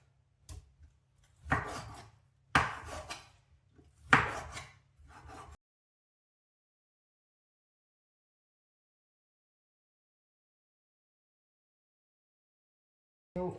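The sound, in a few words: knife cutting boneless chicken breast in half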